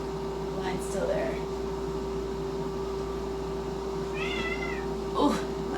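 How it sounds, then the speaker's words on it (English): A house cat meows a few times, short high calls spaced out over a steady hum of room noise, fairly faint and close, with a brief breathy sound near the end. "my cat's still needy as hell"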